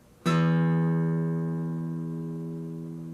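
A single low E string plucked once on a guitar, ringing out loud and close with a long, slowly fading sustain and no talking over it.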